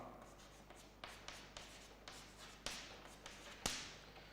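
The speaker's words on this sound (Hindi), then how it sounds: "अब सिमिलरली मैं एक और लिखता हूं" Chalk or marker strokes on a board during a chemistry lecture, a steady series of short scratchy taps about every half second, close and clear, with two sharper knocks near the end and no talking over them.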